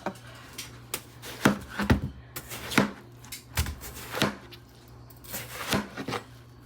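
A knife slices through a watermelon, giving a run of sharp, fairly close cutting strokes at an uneven rhythm over a faint steady hum.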